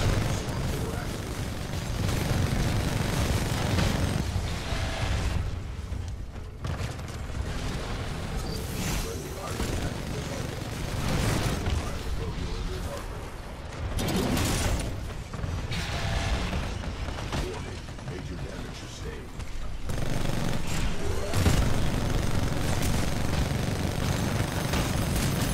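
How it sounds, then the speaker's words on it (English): Legion titan's chain gun in Titanfall 2 firing in sustained dense bursts with heavy mechanical rumble, gunfire and clatter running nearly the whole time, broken by a few short pauses. "That's what I love about Legion, is just the sound of the chain gun."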